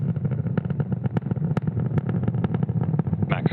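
A SpaceX Falcon rocket carrying 22 Starlink satellites climbs through the atmosphere past supersonic speed, its engines giving a loud, rough, low rumble broken by rapid crackling pops.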